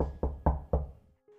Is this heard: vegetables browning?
no